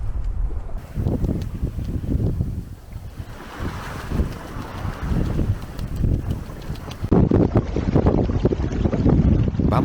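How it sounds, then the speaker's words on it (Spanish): A sailboat running under sail in strong wind off Cabo de Gata in the Mediterranean, with heavy wind buffeting the microphone over the rush of waves along the hull, growing louder and rougher toward the end. "Navegando a vela."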